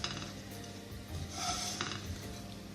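Roasted coconut being scraped from a pan into a bowl, soft metallic clinks and scrapes of a spoon against cookware, faint and close.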